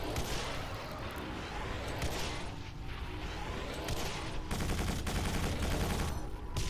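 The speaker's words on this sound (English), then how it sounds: "the AoE from all three missiles hits the spider" Missiles blasting a spider enemy in Quake 4, heard as dense, rapid bursts of explosive impacts with mechanical clatter, fairly close and continuing in overlapping waves.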